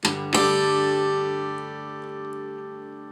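Acoustic guitar tapped harmonics at the 12th fret across the whole set of strings, two bright chiming strikes close together, then a long shimmering ring that slowly decays, close and alone.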